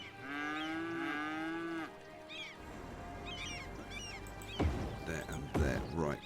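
Cattle lowing in the Cities: Skylines city-builder, several loud drawn-out moos with harmonic tone, then a busier mix of game ambience, short chirpy bird-like calls and thumps, with a voice briefly over it.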